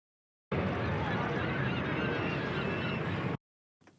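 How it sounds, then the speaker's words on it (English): Seagulls calling on a hot summer day, a dense, loud chorus of overlapping cries that starts abruptly and cuts off after about three seconds, followed by a short faint snippet. "Seagulls are flying around me."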